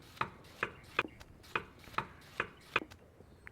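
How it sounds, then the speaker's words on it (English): A potato being chopped in the kitchen game Kebab Chef Restaurant Simulator produces a steady series of crisp knife-on-board thuds, about seven evenly spaced cuts, close and clear with no talking. "Cut up the potato."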